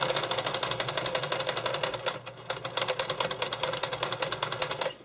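A sewing machine runs a straight stitch along two fabric edges, a fast steady mechanical clatter that dips briefly midway and then resumes, close and loud with no talk.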